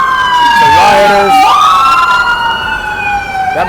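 An ambulance with a police escort passes with loud wailing sirens close by. Two siren tones sweep up and down and overlap, over the rumble of traffic.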